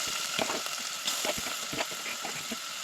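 Prawns frying in hot oil with onion and tomato, a close steady sizzle with scattered crackles and pops and soft stirring scrapes, no talking.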